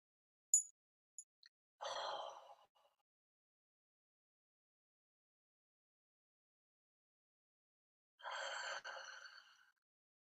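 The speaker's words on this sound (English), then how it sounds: "taking a deep breath in. We breathe in through the nose" Slow, deep diaphragm breaths drawn in through the nose, heard as two separate soft inhalations several seconds apart, close and quiet, with a few faint sniffs before the first.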